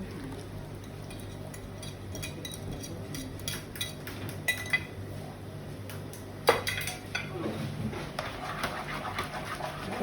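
Spaghetti carbonara is stirred with egg in a pan off the heat, with soft scraping, stirring and occasional clinks of utensils against the pan under faint background noise.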